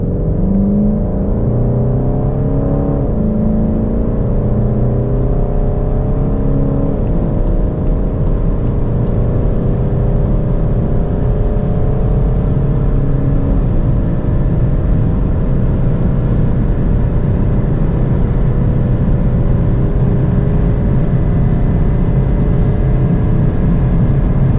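VW Golf 8 GTD with a 200 hp diesel pulling hard from 100 to 200 km/h, a steady loud in-cabin engine drone rising gradually in pitch with wind and road roar throughout, no talking.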